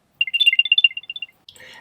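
Apple AirTag giving its activation chime right after the battery tab is pulled: a quick run of bright, tinkling electronic tones rising and falling for about a second, then a short soft rustle of handling.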